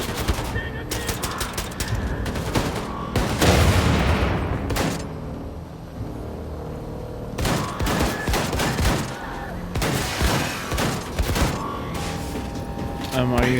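Rapid bursts of video game gunfire crackle loudly throughout, sustained volleys broken by short pauses, with a voice talking over parts of it.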